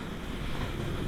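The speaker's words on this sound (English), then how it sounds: "Let me get some water flushing this." Water flushing rust out of a tractor fuel tank, a steady, loud rushing wash with no pauses and no voices.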